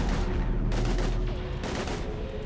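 Continuous heavy gunfire and explosions in the Mass Effect 3 video game, a loud, dense barrage of rapid shots and booms with no pause.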